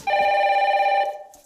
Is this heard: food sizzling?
no